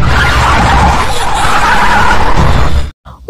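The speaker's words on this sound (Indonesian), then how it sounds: "tiba-tiba sebuah truk menabrak mobilnya dari belakang hingga mobil" A car skids and spins loudly after a truck rams it from behind, tires squealing in a long continuous rush before cutting off abruptly into near silence.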